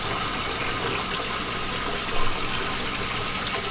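Cold tap water pouring steadily onto hot boiled eggs for Greek Easter cooking, a continuous broadband rush with one brief splashy surge partway through, close and fairly loud, no talking.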